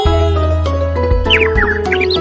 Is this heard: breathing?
no